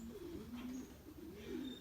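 Racing pigeon cooing softly in a loft, low throaty coos rolling in two short rising-and-falling phrases, near and steady, with no talk.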